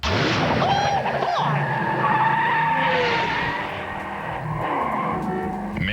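Racing car from the Game Boy Color game Mickey's Racing Adventure, with tinny chiptune engine drone and skidding tire squeals running steadily throughout, loud and continuous with no talking.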